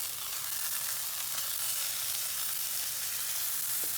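A ribeye steak sizzles steadily in a hot pan, a continuous hissing crackle that stays even throughout with no voices.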